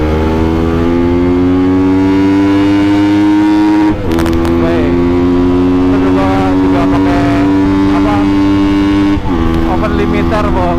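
A remapped Honda CBR motorcycle engine revving loudly and close under throttle, a steady droning tone with harmonics that dips briefly and climbs again, held at a high pitch for most of the span.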